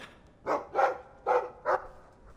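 Four moderately loud, close barks in an uneven rhythm come from a dog in a video game, with faint background ambience between them.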